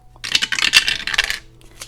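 Dice clatter and tumble down through a dice tower in a quick rattling burst lasting about a second, followed by a final faint click, close and without talk.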